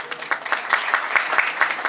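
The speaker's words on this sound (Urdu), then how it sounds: "یہ آپ کی تالیوں کی آواز کوئی مزے کی نہیں لگی مجھے" Children clapping together at an event in Quetta, a steady patter of many small hands with repeated bursts of sharper claps, moderately close and continuous throughout.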